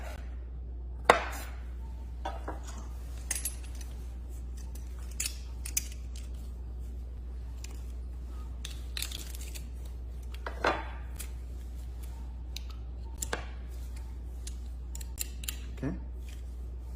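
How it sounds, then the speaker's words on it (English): A knife trims the ends off a single garlic clove, and the clove then goes into a garlic press, giving a few scattered crisp clicks and cuts against a steady low hum, with no talk over it. "I'm gonna add 1 garlic clove. Cut off the ends, and then I put it in the press."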